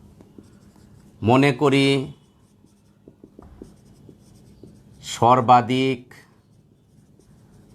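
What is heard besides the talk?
writing by hand during a physics lesson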